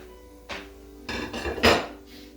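A bowl for arugula salad set down on a counter, a few distinct clattering knocks and clinks of dishware in close succession, fairly loud and with no talking.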